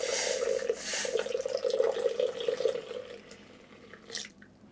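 Warmed milk and water pour into a bowl already holding salt and oil, a close, steady gurgling trickle that runs for about three seconds, then thins into scattered drips and a brief splash.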